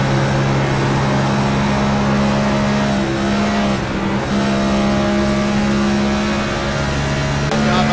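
Stock car engines in the NextGen Cup Series video game at Las Vegas, a loud continuous droning roar of several cars at steady high revs throughout.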